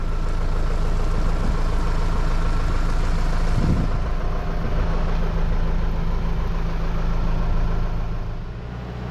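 Crop sprayer running steadily with its engine, pump and fans all going: a loud continuous mechanical roar with a low hum underneath, holding constant before easing slightly near the end.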